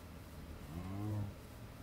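Baby cow in Minecraft with the FTB modpack, one low drawn-out moo that swells and fades at moderate volume over quiet game background.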